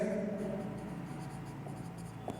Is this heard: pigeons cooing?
no